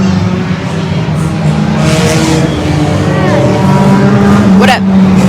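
Hornet-class race cars circling Evergreen Speedway, engines droning loud and steady with a rising whine as one passes near the end, while a commentator talks over the action.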